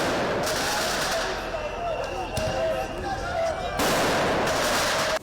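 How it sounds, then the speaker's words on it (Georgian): Fireworks launched into the air amid a crowd at a street protest, sharp bangs and crackling bursts recurring over steady crowd noise with voices throughout, a louder burst near the end. "ნიკოლოზ ჯავახიშვილი ფოიერვერკს ჰაერში ისვრის"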